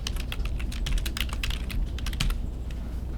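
Rapid typing on a computer keyboard, close and fairly loud, with a quick irregular run of key clicks lasting a few seconds and no talking.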